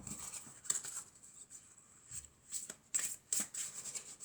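Tarot cards being shuffled by hand on a table, soft irregular rubbing and flicking bursts with crisp papery snaps, close and quiet with short pauses between passes.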